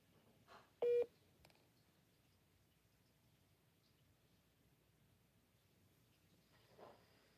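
An unanswered telephone call: a short burst of dialing tones, then a long stretch of near silence with faint background hiss and a small click or rustle near the end.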